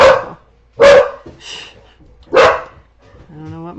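A dog barks three times in loud, spaced bursts nearby, with a higher yip or whine trailing off at the end; a person's voice is faintly present in the background.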